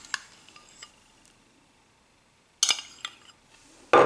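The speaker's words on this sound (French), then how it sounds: "je viens y mettre 2 cuillères à soupe de crème fraîche épaisse" Spoon adding two tablespoons of thick crème fraîche to a carrot, potato and onion velouté in a salad bowl: a few brief clinks and scrapes of metal against the bowl, with quiet gaps between them and a louder clatter at the end.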